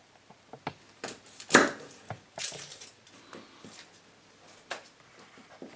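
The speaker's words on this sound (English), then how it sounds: "I'm chopping up some garlic to put in it" A knife chopping garlic on a cutting board in a home kitchen, a loose series of sharp close taps and knocks, one notably louder, with quiet gaps between them.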